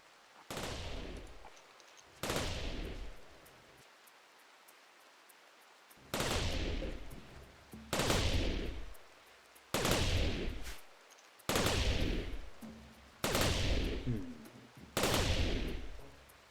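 Bursts of gunfire from people shooting at a video-game shooting range, eight loud separate volleys spaced a second or two apart, each a dense rattling spray that cuts off sharply, with quiet gaps between.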